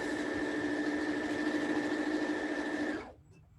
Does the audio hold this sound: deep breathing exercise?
no